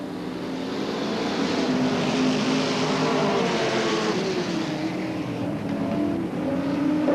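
Several race cars circle a speedway oval, a dense, loud engine roar whose pitch swells and sags as the pack runs down the backstretch and into the turn, continuous and near.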